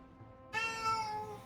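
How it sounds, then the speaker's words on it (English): A house cat lets out a single drawn-out meow after a brief quiet moment, clear and close, with no one speaking over it. "The cat wants to roll."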